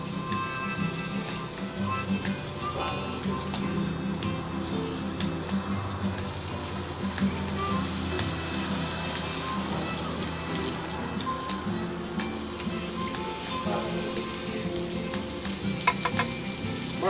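Mushrooms sizzle steadily in a BBQ skillet over a rocket stove outdoors, a continuous close frying hiss with occasional stirring clinks and no talk.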